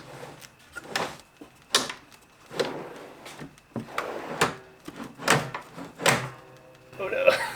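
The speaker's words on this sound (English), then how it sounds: "I test fit one of the drawers to ensure that they're all going to fit before attaching the remaining slides" A wooden pantry drawer is test fitted onto drawer slides, sliding and knocking in a series of close wooden thunks and scrapes at an uneven pace, with occasional talk.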